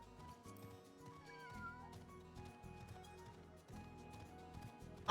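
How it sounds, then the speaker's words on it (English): Flying cat creatures in the video game Final Fantasy XIV meow repeatedly in quick overlapping cries, set against a busy game soundtrack with pulsing low beats, fairly quiet overall. "They're straight up flying cats, not bats."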